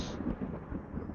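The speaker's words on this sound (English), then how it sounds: "somebody forgot to switch off the thunder" Low, rolling rumble of a thunder sound effect, a deep grumbling burst that swells and fades over about a second, playing alone with no talk.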